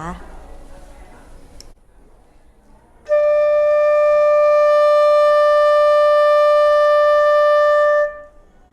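A Thai khlui flute plays the note D, a single clear, steady tone held for about five seconds and then cut off, following a short stretch of quiet talking.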